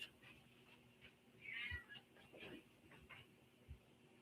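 A cat meows faintly in the distance, with a couple of thin cries rising over a quiet, hissy background and scattered low bumps.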